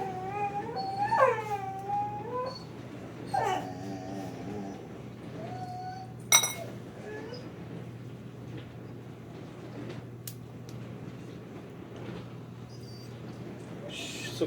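A curious female dog whimpering and whining in short, rising and falling cries near a person, followed by quieter sniffs and small noises over a steady low hum.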